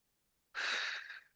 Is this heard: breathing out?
yes